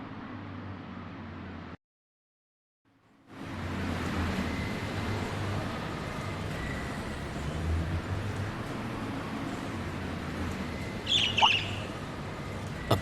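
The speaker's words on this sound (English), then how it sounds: "There was just a strange bird on that lamppost over there." A strange bird squawks briefly near the end, standing out over steady ambient hum in the video game Trails of Cold Steel.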